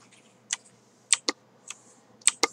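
Crisp clicks of keys on a computer keyboard, including the Ctrl key, about seven sharp close taps in an uneven rhythm, some coming in quick pairs, in a quiet room.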